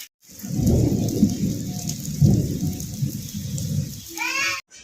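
Steady rain falls with low rolling thunder rumbling through it, loud and continuous, during a monsoon storm in Kendujhar, Odisha; a brief higher whine or chirping rises near the end.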